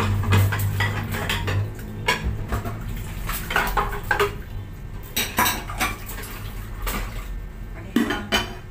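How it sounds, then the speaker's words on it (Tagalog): Dishes washed at home, with pots, plates and cutlery clattering and knocking close by in an irregular run of sharp clinks over running water. "Hugas ako ng mga hugasin."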